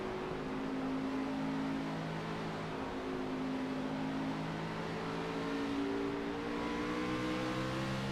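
Onboard, a race car engine drones steadily at Indianapolis Raceway Park in a SPEED Xfinity Series race, the Denton County Carpet Cleaning car's pitch slowly climbing and falling through long gear pulls with no talk.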